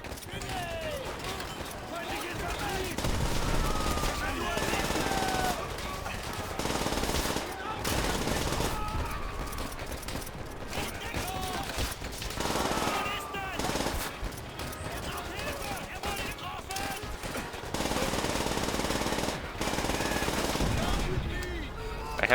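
Rapid machine-gun bursts and scattered gunshots from Call of Duty combat, loud and continuous throughout with a dense, layered battle din, while someone talks over the firing.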